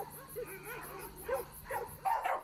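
Several dogs bark and whine at a city animal shelter in Brookhaven or Macomb, with repeated yelps and howl-like cries rising louder toward the end against a noisy indoor background.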